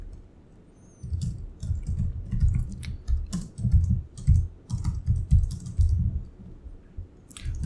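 Code typed on a computer keyboard, a close, busy patter of irregular key clicks and thumps in quick bursts that runs for several seconds after a quiet start, with no talk.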